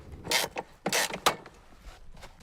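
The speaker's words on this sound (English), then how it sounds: "remove this little door with the word danger on it" A small plastic safety door marked with a danger warning is worked loose from a lawn mower, giving a few close creaks and mechanical clunks in short bursts, with no talking.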